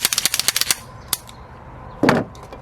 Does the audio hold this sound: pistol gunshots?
yes